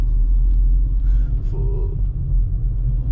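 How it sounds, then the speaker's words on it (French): Heavy vehicles, buses and trucks, grinding up or down a mountain road on Réunion, a close, steady low rumble of engines and tyres throughout with a brief voice over it. "Et des fois il y a des bus et des camions hein, qui descendent ou qui montent."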